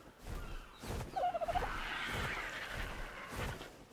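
A dodo bird in the island map of Ark: Survival Evolved gives a quick gobbling, warbling call of several rapid pulses over steady game background noise.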